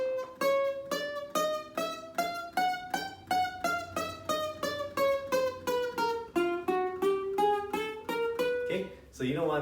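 A voice imitates the buzz of ukulele strings rattling against the frets when the action is set too low, a rapid series of pulsed buzzy tones with gliding pitch, close and alone.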